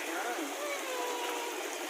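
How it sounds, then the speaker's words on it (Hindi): Clean water flows steadily from a source in a park, a continuous close rushing hiss with no break and no talk over it. "पानी देखो, ये पानी कहाँ से आ रहा है?"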